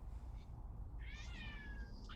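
A cat gives one long, drawn-out meow over steady low background noise, faint and a little distant, with no talk.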